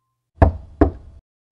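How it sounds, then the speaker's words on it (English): Two heavy knocks land on a door about half a second apart in an otherwise silent room, each a loud, hollow thud with a brief boomy ring, set as an effect in a ghost story. "the knocking started again, this time louder and more insistent"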